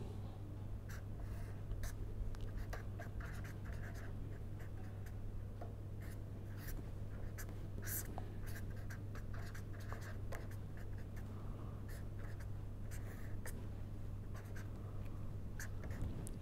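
Equations are written out during a lecture: faint, scratchy strokes come in short irregular bursts over a steady low hum, quiet and continuous throughout.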